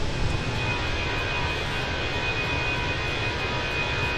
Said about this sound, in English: Sounds like that throttle should be at idle, or at least in climb.